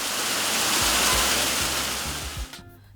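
A waterfall on a 4.6-hectare property in Jamaica, a dense, continuous roar of rushing water that stays loud and steady before dropping away abruptly near the end.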